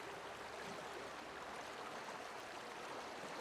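A waterfall in the video game The Outer Worlds roars as a steady, faint broadband rush of falling water, continuous and unbroken, with no voices over it.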